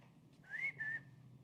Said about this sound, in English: You sound like your father when you whistle like that.